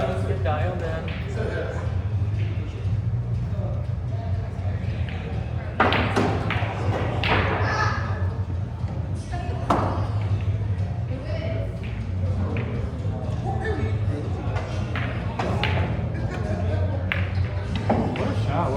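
Pool balls clacking on a pool table during instructor training: several sharp knocks and thuds spread across the stretch, mostly under ongoing talk between people.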